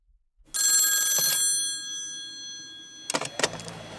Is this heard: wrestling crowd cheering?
no